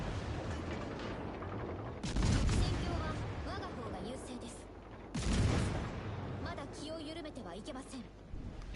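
Warships firing high-explosive shells in the naval combat game World of Warships Legends: two heavy rumbling gun salvos a few seconds apart over constant background battle noise, with a voice talking throughout.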